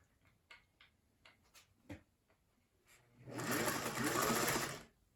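A household sewing machine stitches on a wide stitch setting, a loud steady whirring run of about two seconds that follows several quiet clicks and knocks.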